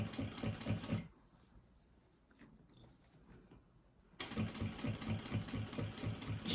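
A sewing machine stitches bias binding in two rapid, steady bursts of mechanical clatter separated by a quiet pause of about three seconds with faint handling noises.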